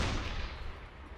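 A deck gun firing from a surfaced submarine in the Uboat game, one heavy, dense blast with a rumbling low-end tail that fades over about a second.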